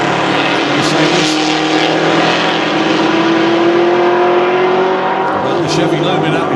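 EuroV8 Series race cars, a Mercedes and a Chevy Lumina V8, roar loudly at Monza with a continuous, droning engine note that rises slightly in pitch, under a commentator's speech.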